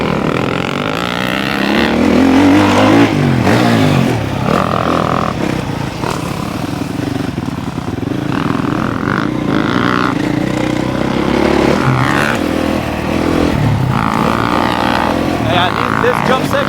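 An off-road motorbike on a jump section, loud and close, revving and accelerating in repeated surges with shifting engine pitch and wind rumble, alongside occasional voices.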